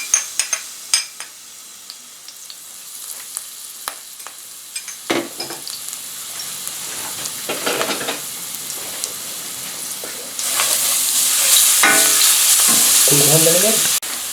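Ginger garlic paste hits hot oil for devilled prawns and sizzles, with scattered crackles and stirring scrapes at first, then a loud, steady frying hiss in the last few seconds, close and without talk.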